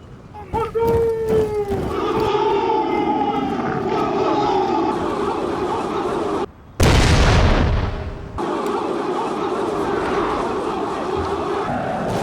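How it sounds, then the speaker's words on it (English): Bursts of gunfire and artillery booms sound through a Total War battle of the 1879 Anglo-Zulu War, with British mounted troops firing from the saddle; a loud, dense blast around the middle stands out over steady battle noise and narration. "The mounted troops opened fire from the saddle in an attempt to trigger a premature charge before retreating into the British square."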